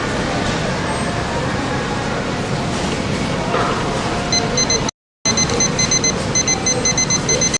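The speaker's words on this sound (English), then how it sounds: "let's set our timer too while I got it here" A timer being set gives off a steady rapid beeping pattern over a loud background hum, in the second half after a brief dropout, with no words spoken.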